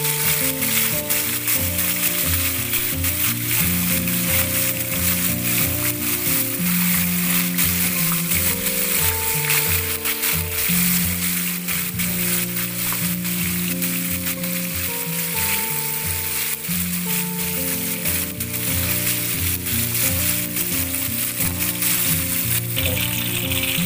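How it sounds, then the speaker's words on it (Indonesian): Crispy battered chicken frying in hot oil, a loud, continuous close sizzle and crackle that holds steady throughout with no voices over it. "kita goreng hingga warna berubah menjadi keemasan"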